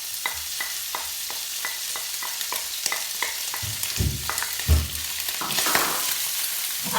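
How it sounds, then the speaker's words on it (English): Turkey rashers sizzle and fry in a hot pan, a steady crackling hiss broken by rhythmic scraping stirs, with louder bursts of spitting as the meat settles into the oil. "now what we're going to do is add the turkey rashers"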